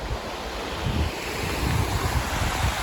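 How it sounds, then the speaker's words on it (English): Waterfall at Donut Falls on a steep, hazardous hiking trail, a steady broadband rush of falling water mixed with gusts of wind noise on the microphone, continuous and fairly close, no voices. "And there's the falls"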